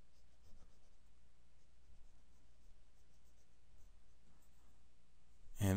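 A pencil scratches steadily and faintly across paper while sketching an anatomy skeleton, soft continuous strokes in a quiet room, ending with a sudden loud knock.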